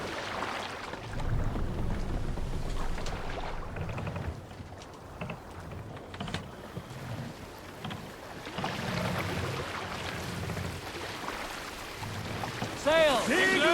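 Viking crew rowing a longship in Assassin's Creed Valhalla, oars sweeping in steady rhythmic strokes through water under wind and open-sea ambience, with voices calling out over the rowing.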